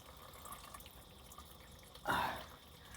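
Diesel fuel from a Duramax fuel filter on a Chevy C5500 drips and splashes once in a brief, clear liquid spatter after faint background trickling, quiet and close, with no voices.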